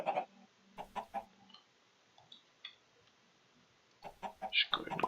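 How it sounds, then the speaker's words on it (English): Minecraft chickens in the Stoneblock modpack cluck in short scattered bursts, with a few soft clicks and small noises in the quiet gaps between them. "I've got my chickens"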